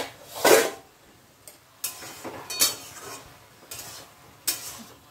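Mustard seeds and grated coconut fry in oil in a wok on a gas stove while being stirred. Scraping, clattering utensil strokes come at irregular intervals over a soft sizzle, with one louder scrape near the start.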